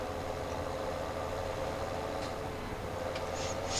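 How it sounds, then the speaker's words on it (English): A truck engine idles steadily in Farming Simulator 17, a constant mid-low drone with no change in pitch throughout and faint clicks near the end. "I like driving the truck in here"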